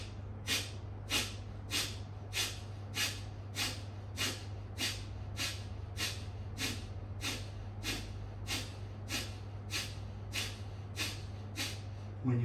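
Rapid, forceful Kapalabhati yoga exhalations, around twenty sharp rhythmic puffs through the nose at an even pace, close and moderately loud over a low steady background hum.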